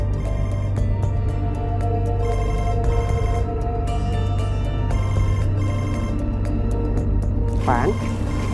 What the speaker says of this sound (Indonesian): Pan, kok teleponnya nggak diangkat?